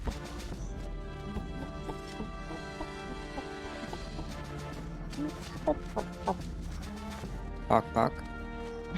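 A person imitates chicken clucking in short, irregular bursts during a tabletop role-playing game session, with other players talking over and around the voice.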